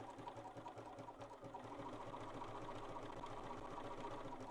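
A Bernina sewing machine stitches appliqué in a fast, steady mechanical run of needle strokes, with a regular pulsing rhythm, close and continuous, and no voice over it.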